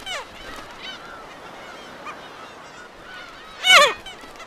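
Black-tailed gulls call on Dokdo while fighting over territory, with thin, scattered cries over a faint background and then one loud, harsh squawking burst near the end.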